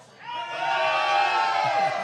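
A crowd of Bettendorf fans cheers and whoops at a state semifinal game inside a dome, a sustained roar of many voices rising quickly and holding loud throughout.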